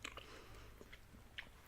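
Close, quiet chewing of a soft snack: a few soft bites and moist mouth sounds in an irregular rhythm, no talking.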